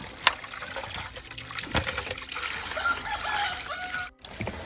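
Tap water runs and splashes steadily while freshly cut and cleaned fish are rinsed in a Kerala village kitchen, close and continuous with brief trickling bursts and a short pause near the end; no talk.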